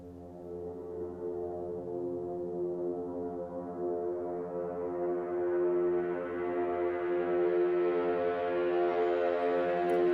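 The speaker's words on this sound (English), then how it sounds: "Next we have our first pad sound." A synth pad in a techno track holds one long F note as a steady, layered drone that slowly brightens and swells louder over about ten seconds, with nothing else playing.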